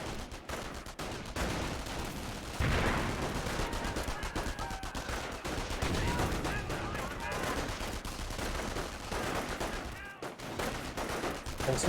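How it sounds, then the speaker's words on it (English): In a Company of Heroes 1 match, rifle and machine-gun fire crackles in dense, repeated bursts across the battlefield, with a louder volley a few seconds in and combat noise continuing throughout. "Taking rifle fire."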